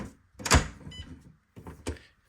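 A WELOCK smart lock's motor spins freely, heard close up as short mechanical whirs and clunks in two quick bursts separated by silence.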